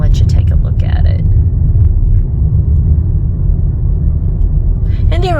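Steady low rumble of a car rolling slowly along a campground road past an old bathhouse and riding stables, continuous and close, with a brief voice near the start and chirpy birdlike sounds at the end.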